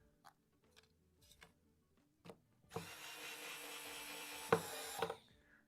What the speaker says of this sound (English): I'm stripping the threads